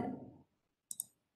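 A computer mouse clicks twice in quick succession while working in SketchUp, crisp and close after a fading voice, then silence.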